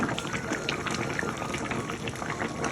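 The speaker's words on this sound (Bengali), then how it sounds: "ঝোলটা এখন ফুটে গেছে ভালোই" Thin chicken curry broth boils hard in a pot on a gas stove, with dense, steady bubbling and popping that stays fairly loud throughout, with no talk over it.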